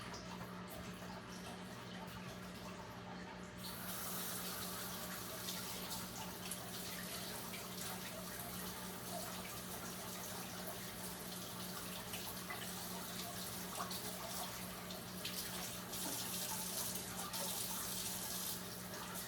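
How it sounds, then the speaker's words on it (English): Tap water running steadily into a sink while biscuit dough is washed off hands; a continuous, even rush of water that grows fuller after a few seconds, close and without speech. "Washing the dough off my hand."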